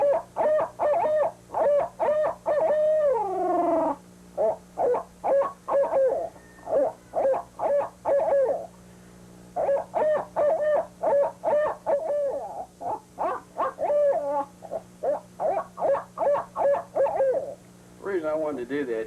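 A turkey caller uses his voice to imitate an owl, producing long runs of rhythmic, resonant hoots in repeated phrases separated by short pauses. The calls are close, loud and unaccompanied by other sounds.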